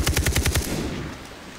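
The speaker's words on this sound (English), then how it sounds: "They're shooting all around." Rapid machine-gun bursts in Far Cry 3 on a custom trench battlefield map, loud and close, with about six quick shots followed by a fading echoing tail.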